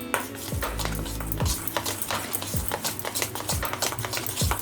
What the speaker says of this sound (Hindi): ये सारी चीज़ों को मिला देते हैं।